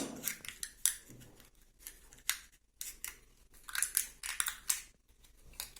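Scissors snipping carefully through a ball, a series of sharp, close crunching cuts with brief pauses between strokes, no voices.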